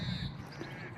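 A single crow caws at a caravan park, a short harsh call at middling distance over a low outdoor rumble.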